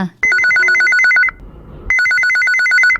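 An electronic phone ringtone plays a repeating warbling pattern, two loud bursts separated by a short pause.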